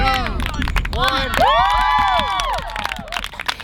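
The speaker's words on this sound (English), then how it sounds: "All the girls are cheering, it's so cool." Girls cheering and shouting together at a team training camp, a loud, close crowd of high excited voices rising into sustained whoops over about three seconds.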